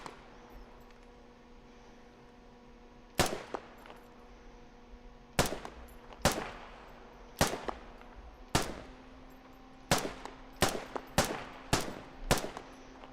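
Loud, sharp gunshots from a machine gun in a video game ring out about a dozen times at uneven intervals, spaced out at first and then coming faster, over a steady low hum.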